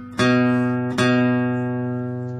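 An electric guitar picks a single note on the A string twice, each pluck sharp and ringing with a slow decay, close and clear with no talk.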